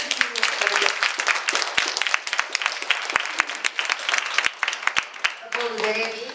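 An audience applauds steadily at an event in Bulgaria, dense clapping sustained for several seconds before fading as a voice begins speaking at the end.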